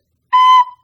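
A single recorder note B sounds for about a third of a second, clean and steady with a soft tail, played alone after a moment of silence during a beginner recorder lesson.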